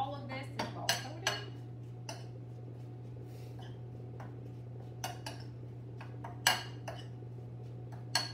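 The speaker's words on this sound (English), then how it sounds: "I'm going to take my utility spoon, and I'm just going to mix it to make sure that all of this is well coated." A utility spoon clinks and scrapes around a bowl as a mixture is stirred to coat it, irregular sharp taps spread through the clip over a steady low hum.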